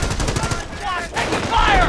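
Rapid bursts of gunfire crackle in the World War II strategy game Company of Heroes, with machine-gun-like rattles and sharp shots layered close together.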